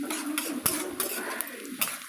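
Onions are stirred in a pan while a dry fish tomato curry is cooked; a metal spoon scrapes and clinks against the pan in several sharp knocks over a soft, steady sizzle.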